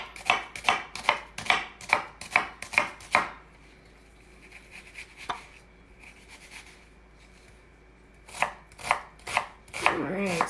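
Onions are diced with a knife on a bamboo cutting board: a quick run of crisp, evenly spaced chops, a quiet pause, then another burst of chopping, all close and without voices.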